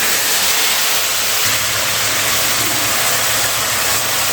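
Red lentils hit hot oil with tempered spices in a pan and set off a loud, steady, close sizzle that hisses without a break and has no voices over it.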